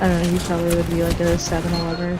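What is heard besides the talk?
None of the usual background noises is heard.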